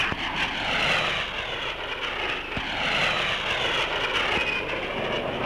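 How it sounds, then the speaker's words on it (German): An FFA P-16 jet aircraft flying a roll, its engine a steady, heavy roar that swells and eases slightly over several seconds, loud and continuous with no voices. "Hier fliegt der P-16 sein erstes Tonneau."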